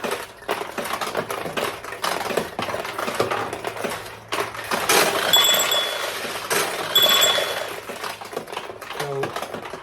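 Several balls are launched through a fully restored 1975 Nishijin Model B vintage pachinko machine, giving a dense run of metallic clicks, clinks and rattles close by, with brief bright ringing chimes partway through.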